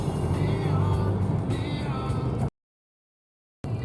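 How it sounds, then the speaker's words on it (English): A car driving out of Coffs Harbour toward the jetty, steady road and engine rumble from inside the vehicle, cut off abruptly by a stretch of dead silence before the drive noise briefly resumes. "We're now just driving out of Coffs Harbour and heading towards the jetty."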